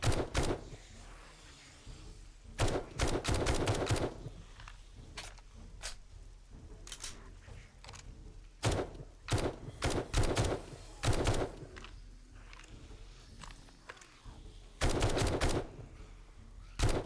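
Rapid bursts of automatic gunfire from a 7.62 weapon in the game 7 Days to Die, a series of loud close volleys of varying length separated by short pauses.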